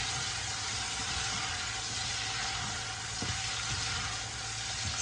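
Chicken pieces frying in a pan with salt just added sizzle steadily at close range, a continuous hiss with faint stirring scrapes and no talk.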